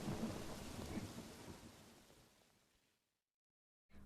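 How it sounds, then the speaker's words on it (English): Thunderstorm with steady heavy rain and low rolling thunder, loud at first then fading away to near silence before a brief return of noise at the end. "The storm continued for 20 minutes."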